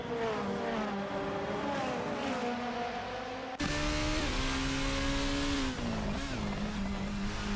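Race cars in the Tokachi Superprix round of a racing video game roar continuously, engines droning at high revs with pitch shifts as the cars gear and jostle, loud and unbroken throughout.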